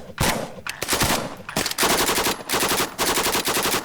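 Rapid automatic weapons fire crackles in long, dense bursts with short pauses between them, loud and close, sounding like sustained combat gunfire.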